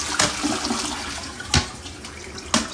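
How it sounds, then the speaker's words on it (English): A toilet flushing during a move-in apartment inspection, a rushing water burst with sharp broadband surges recurring at intervals over steady running water, fairly close and loud with no talk. "Let's do a quick flush test."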